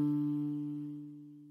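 A single plucked guitalele D string ringing out on its own, a soft, steady tone with a few faint overtones that fades gradually, close with no talking.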